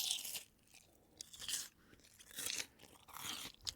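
Crunchy bites of an apple followed by chewing, several crisp close crunches in irregular bursts with quieter mastication between them and no speech.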